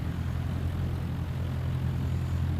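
Light propeller airplane, call sign Lima Alpha Uniform, at about 1200 RPM on its takeoff roll from runway 29 with a southbound departure: a steady, close droning engine hum with a throbbing low tone and constant loudness, no voices.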